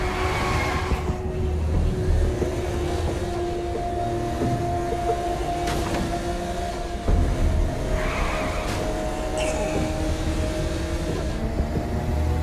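A car drives through the streets in Saints Row: Gat Out of Hell, its engine droning and shifting pitch continuously, with occasional thumps and bursts of game effects over the steady motor noise.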